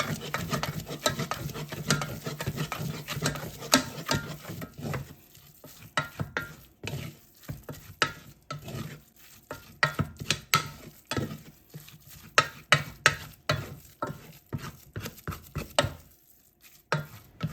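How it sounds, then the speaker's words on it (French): Egg yolk whisked energetically into a pastry mixture in a bowl: rapid rhythmic clicking and slapping strokes, loud and close, with brief pauses between bursts. "ajoutez un premier jaune d'œuf et mélangez, fouettez avec énergie"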